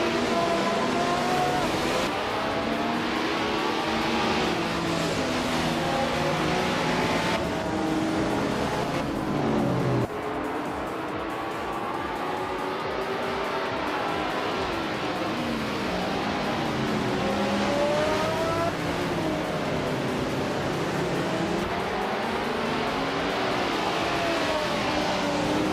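Race car engines in a racing game, with the field led by a 1971 Ferrari 312 FB, heard as a loud continuous layered drone with rising and falling pitch as gears shift and cars accelerate, steady throughout the stretch.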